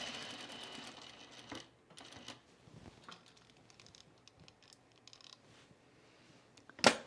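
A sewing machine stitching up the vent hem of a shirt, with quiet stretches of rapid mechanical patter broken by handling noises and a sharp clack near the end.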